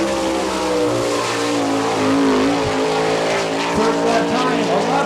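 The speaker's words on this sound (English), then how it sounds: "Taking the green flag underway right now in car number 4J from Upper Maryland." Jeff Shepard's car number 4J takes the green flag at Attica, Ohio, its race engine roaring loud and constant as it revs up and carries through the turns, with a voice talking over it.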